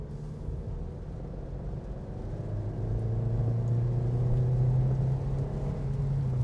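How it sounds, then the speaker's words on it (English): A 2025 Kia Niro EX Touring hybrid accelerates hard onto a highway: a steady engine and road rumble whose tone climbs and grows slightly louder over several seconds, heard from inside the cabin with no talk. "Just gonna hit my foot on the gas here."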